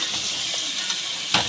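Mutton sizzles in a hot pan with ginger paste, a close, even frying hiss with small pops and a sharp burst near the end, likely a stir, with no voices.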